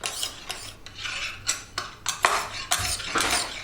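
A kitchen knife is drawn repeatedly across a fine hone, giving a close series of rhythmic scraping strokes, roughly two per second, with no talking.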